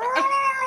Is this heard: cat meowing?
yes